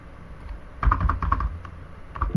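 Close-up typing on a computer keyboard, a quick irregular run of light clacking keystrokes with a heavier key press near the end, with no talking.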